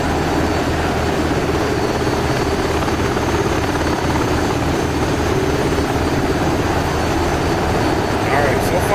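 A Seahawk helicopter in the DCS World flight simulator comes in to land on a ship, its rotor and turbine drone a steady, loud, continuous roar for the whole stretch with no break.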